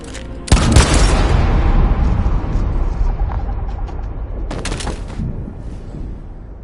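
Gunfire in the video game Detroit: Become Human: a loud burst of shots cracks out, rumbles on, then a second sharp volley follows a few seconds later.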